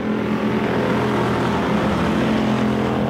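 Wissota Pure Stock race cars running a feature race on a dirt oval track, loud continuous engine roar from several cars, steady droning with no talk.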